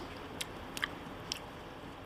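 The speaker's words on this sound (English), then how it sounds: "And just chew. Keep chewing." Close, quiet chewing of a raw oyster: several soft, wet bites and squishes at irregular intervals over a steady low background, with no voices.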